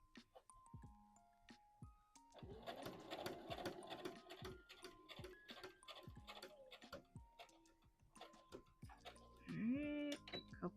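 Sewing machine running along a dress side seam, a fast clattering needle rhythm in stop-start bursts, ending with a short backstitch, amid soft fabric rustling.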